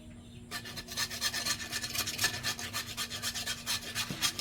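Chopper machine blade being sharpened by hand, a rhythmic series of rasping back-and-forth strokes roughly four per second, close and steady over a faint constant motor hum.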